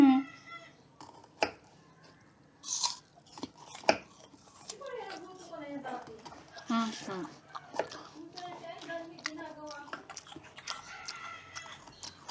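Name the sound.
chopping food for cooking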